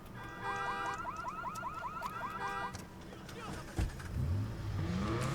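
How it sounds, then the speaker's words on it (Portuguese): A stolen car in Watch Dogs 2 drives off, its low engine rumble rising and falling throughout while a loud chirping alarm-like warble sounds over the first half, with a sharp thump partway through. "Deixa eu roubar esse carro aqui."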